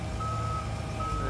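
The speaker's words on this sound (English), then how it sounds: "Trucks digging up the street to get this neighborhood back in order." Reversing beeps from trucks working on a residential street under repair after a water main break in Skokie, a steady electronic tone pulsing over the low rumble of a heavy engine, moderately loud with no voices.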